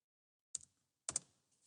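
Two quick bursts of clicking keys on a computer keyboard while typing an email, each a short cluster of crisp taps separated by a brief pause, close and clear in otherwise silent surroundings.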